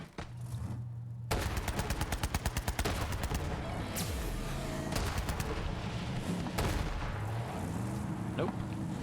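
Rapid automatic gunfire in the shooter Borderlands 3, a loud sustained burst of rattling shots with heavy blasts and booms layered over game noise.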